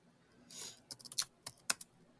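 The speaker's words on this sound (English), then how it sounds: "I'm finding it by typing in Slippery When Wet" Quick, irregular clicks of typing on a computer keyboard: a short burst of about eight keystrokes of varying loudness, close and crisp, with no voices.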